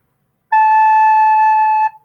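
Single recorder note A, held for about one and a half seconds, clear and steady with a pure, breathy tone, played close and alone before cutting off with a short tail.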